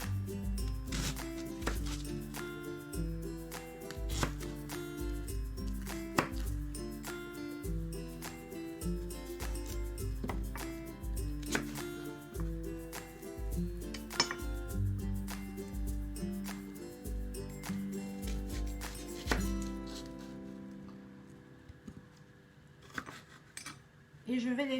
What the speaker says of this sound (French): je vais couper l'oignon rouge en grosses lamelles